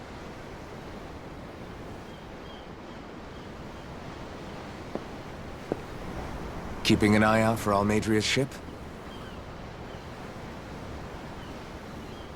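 Ocean waves in the video game Tales of Arise, a steady wash of surf and wind at sea with a short stretch of a voice speaking over it.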